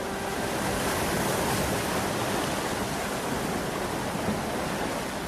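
Steady, roaring surf of a rough northern sea breaks continuously against the stony shore of Calhau de São Jorge on Madeira, a dense wash of waves filling the air with no pause.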